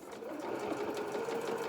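A sewing machine runs a short, continuous stretch of stitches over a gap in a doll-sized playsuit seam, a close, even whirring buzz with rapid needle ticks throughout.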